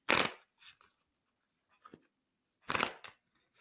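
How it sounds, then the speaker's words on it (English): Tarot cards are shuffled in two short riffling bursts with quieter soft card taps between them, close and crisp in an otherwise quiet room. "as you're shuffling the cards, you're listening for the right time"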